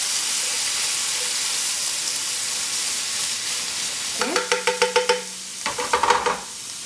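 Garlic and ginger fry in hot oil with a steady, close, bright sizzle, then a quick series of rhythmic metallic clacks as a utensil stirs against the pan, with no voices.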